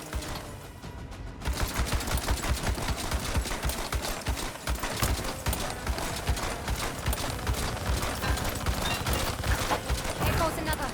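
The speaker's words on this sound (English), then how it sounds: "These guns are so powerful!" Mounted guns in a video game fire in rapid, continuous bursts of loud sharp reports, dense and unbroken throughout, mixed with game action and voices talking underneath.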